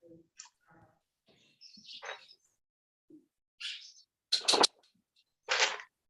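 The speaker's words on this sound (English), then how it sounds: "You have birds in the background." Birds chirp in the background of a remote courtroom session: scattered short tweets and a few sharper calls, fairly faint, separated by silence.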